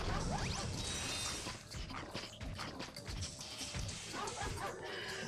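Game dog in Ratchet & Clank (2002) barking and snarling as it attacks, with repeated yips and bow-wows over busy crashes, mechanical clanks and game music, loud and dense throughout.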